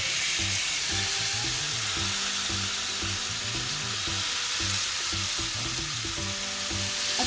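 Marinated chicken fries in hot oil in a pan, a steady close sizzle and crackle running continuously with faint stirring scrapes and no talking.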